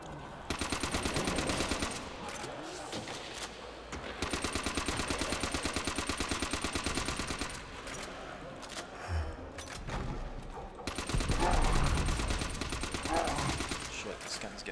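Rapid automatic gunfire from Call of Duty: World at War's Nazi Zombies mode, with loud sustained bursts broken by short pauses and a heavier blast near the end, under occasional talk.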